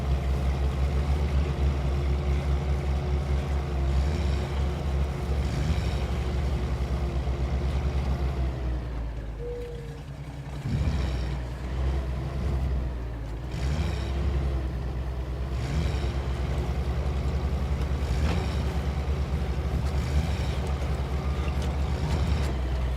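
Steady low rumble of a vehicle engine churning through water in SnowRunner, continuous and fairly loud with splashing, cutting out briefly near the middle before resuming.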